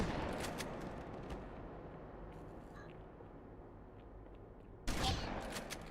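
Blasts from a shotgun in a video game, a loud roaring shot with a decaying rumble, then a quieter stretch before another sharp, loud blast near the end.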